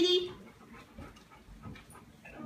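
A puppy pants softly and whimpers in short breathy bursts, close and fairly quiet, under a person's speech.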